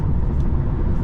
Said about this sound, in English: making your car make noise with a switch, that the paddle shifters can do that too